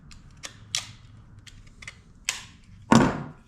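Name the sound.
hitting axe handle into Kelly Tasmanian splitting axe head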